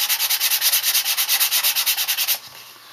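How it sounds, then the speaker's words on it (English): The thin leather edge of a wallet, stiffened with tan coat, is sanded with 220 grit sandpaper in rapid, even back-and-forth strokes, a loud close rasping rhythm that stops near the end. "now I'm going to sand it a little bit to smooth it out"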